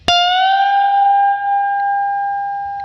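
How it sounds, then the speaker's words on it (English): One picked electric guitar note bends up two frets and sustains, bright and steady with effects, fading slightly over nearly three seconds. "This is a 2 fret bend."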